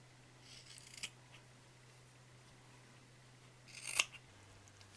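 Scissors snip through fabric for a patchwork Christmas tree, two quiet, brief cuts about three seconds apart under a faint steady hum.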